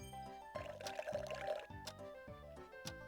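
Cartoonish pouring effect from the Cooking Mama video game, a bubbly liquid gurgle laid over bouncy, repeating background music, fairly quiet and brief.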